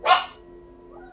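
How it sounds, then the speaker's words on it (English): A single sharp bark from a pet dog, close and loud, followed by a short fading tail and near silence. "my dog is going crazy"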